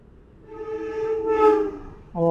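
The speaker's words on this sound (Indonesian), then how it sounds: "Oh, keretanya dari Malang, teman-teman." A passenger train of seven carriages heading from Malang toward Surabaya rumbles past close by, its noise swelling to a peak before a loud, steady horn blast sounds near the end.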